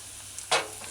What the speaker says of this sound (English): I want to make sure that the garlic and the ginger is sauteed properly